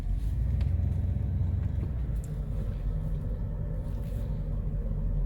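Car pulling up at a gas station, a steady low engine rumble with road noise, continuous and fairly close, with no talking.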